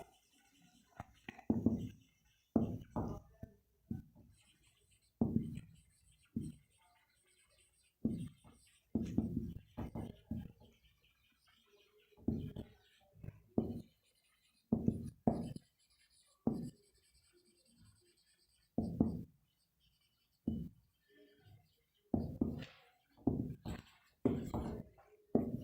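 Chalk or marker writing on a classroom board, a series of short, crisp strokes and taps in irregular bursts, close and distinct, with faint whispering in places.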